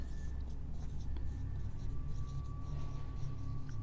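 Pen scratching out a maths problem on paper, a faint, steady scribble close by with soft room hum and no voice.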